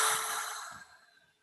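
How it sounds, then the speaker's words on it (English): A group exhales together through their mouths, a single soft, breathy rush of air that fades away within about a second. "let's all take a deep breath in together"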